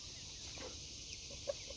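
A rooster clucking at a small backyard chicken hospital, with a few soft, brief clucks over a steady background hiss, faint and somewhat distant.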